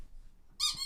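A squeaky rubber duck toy gives one sharp, bright, high-pitched squeak near the end, loud and close after a quiet stretch.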